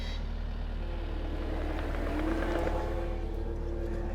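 A skid steer carrying a Raptor boom mower attachment drives away, its steady engine drone holding at a constant level throughout, rough and continuous with no pauses.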